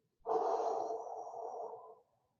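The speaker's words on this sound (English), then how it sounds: "Exhale, reach and scoop. Get all the air out, pause." A single long, deep exhale pushed out through the mouth during a beginner core-restore breathing exercise, steady and close, fading out after about two seconds.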